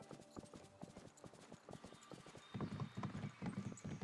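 A horse's hooves clip-clop at a steady walking rhythm in Disney Dreamlight Valley, a run of crisp, evenly spaced hoof strikes that grows louder and denser partway through, with no talk.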